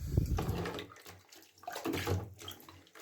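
Water mixed with ordinary houseplant flowering fertilizer poured over a potted phalaenopsis orchid indoors, a close, splashing stream that runs in uneven bursts and trickles for about three seconds.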